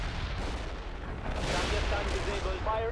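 Artillery fire in the modern warfare game World in Conflict rumbles as continuous, loud, dense booms and blasts, with a voice coming through in the final second.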